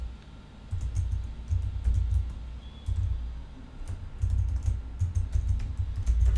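A computer mouse and keyboard clicking at a desk, a run of quick, light taps close by over a low background hum.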